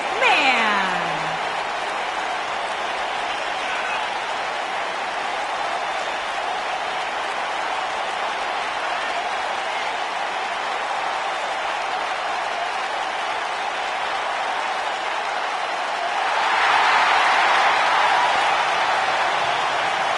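Arena crowd in the WWE 2K19 wrestling game keeps up a steady, loud roar of cheering throughout, swelling louder near the end, while commentators talk over it.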